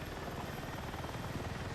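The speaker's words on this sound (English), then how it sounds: "This is gonna be super fun with a little bird." Little Bird helicopter in a video game flying steadily, its rotor chop a continuous rhythmic thrum with a steady engine roar, close and even throughout.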